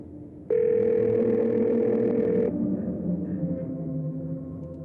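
A phone call being placed in the game Scarlet Hollow: a single steady electronic tone sounds for about two seconds, then cuts off, leaving a low background hum.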